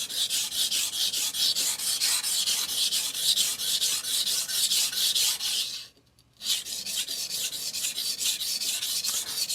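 A German steel cook's knife is worked across a Shapton Kuromaku 320 grit whetstone for edge bevel repair, giving a steady, close, raspy scraping in rhythmic back-and-forth strokes, broken by one brief pause.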